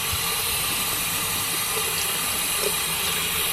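Water pours steadily over a Caterpillar Threshold steel toe industrial boot in a continuous, close, hissing splash that stays even and unbroken throughout.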